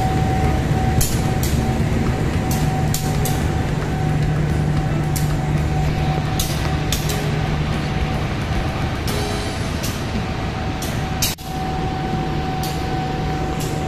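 A train on the long Merak–Banyuwangi rail journey hums and rumbles steadily, with a constant engine drone, rhythmic clicks and clunks of wheels over track joints, and a brief dip in noise near the end.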